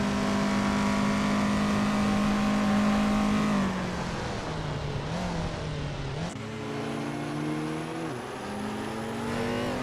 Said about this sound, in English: Bot Kaboomper is driving a 1978 BMW M1, a classic that's holding its ground early on